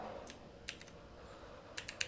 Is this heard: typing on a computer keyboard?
yes